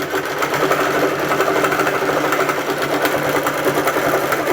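A sewing machine quilting runs steadily and loudly up close, a dense continuous whirring rattle of stitching with no pauses or speech.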